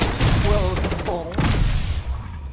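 Rapid bursts of loud, booming gunfire from the Resonator X53, a new weapon in a video game, come in two or three clustered volleys with a ringing, tonal resonance, while a voice talks over the shots.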